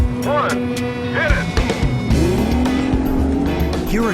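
Outboard racing boats powered by Evinrude E-TEC and Yamaha engines roar off the start line together, a loud, continuous engine drone with rising and falling pitch sweeps throughout.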